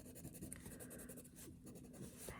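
Pencil strokes going over a drawn outline on paper, a soft steady scratching with short repeated strokes, close and fairly quiet, with no talking.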